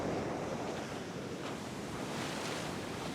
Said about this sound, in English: all of the waves breaking on that sandbar there